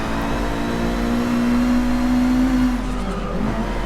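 A race car engine in Forza 6 Apex held at high revs under sustained acceleration, loud and steady with a rising whine, then easing off near the end, with no voices.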